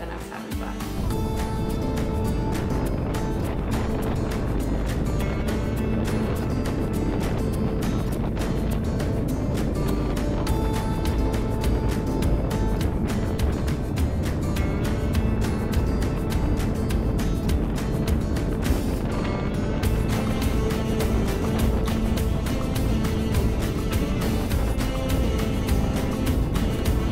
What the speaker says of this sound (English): Overall, the Indian Sport Chief is a really sick bike.